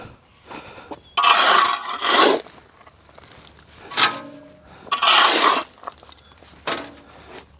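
A glass item is tossed into a trash can at a woodyard, giving loud clattering, scraping bursts of debris in several rough waves with short pauses, close by and with no speech.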